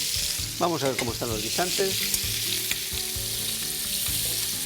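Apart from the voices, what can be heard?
pork loin searing in a pan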